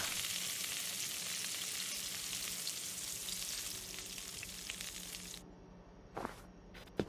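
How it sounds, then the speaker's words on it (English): Steak frying in a pan in a video game, giving a loud, dense, continuous sizzle close up that thins out toward the end, where a couple of short clatters break through. "Steak. Rein in die Pfanne."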